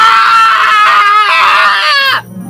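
A man lets out a loud, excited, wavering scream inside a local radio commercial, close and sustained for about two seconds before cutting off abruptly.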